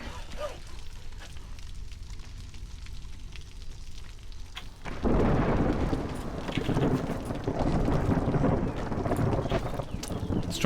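A storm sweeping in within the video game Against the Storm: a steady low rumble of wind and rain that swells abruptly halfway through into a louder, denser roar of downpour and gusts.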